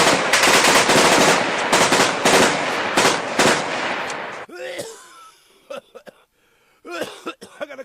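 Rapid bursts of gunfire rip loudly for about four seconds, then give way to scattered sharp shots with quieter gaps between them.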